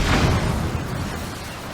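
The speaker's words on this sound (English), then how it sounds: "being propelled by cannons is very fun" Cannon blasts propel a vehicle in Zelda: Tears of the Kingdom, a continuous loud, rumbling roar of bursts running throughout without pause.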